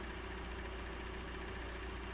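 A vehicle engine idles steadily in Farming Simulator 19 with the Straw Harvest add-on, a continuous low rumble with a faint knocking pulse that holds at even, moderate loudness throughout.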